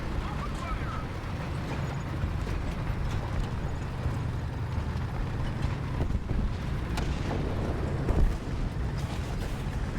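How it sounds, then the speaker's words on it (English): An artillery bombardment in War Thunder sends up a constant, heavy battlefield rumble with scattered booming impacts, one sharper blast standing out near the end, while a voice talks over it. "this part of the match is always just people bombarding artillery all over the points"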